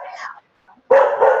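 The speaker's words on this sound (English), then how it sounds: "Darn dog." A dog barks close by, a short burst of yaps followed by a pause and then a louder, sustained run of barking, with some speech-like sound mixed in.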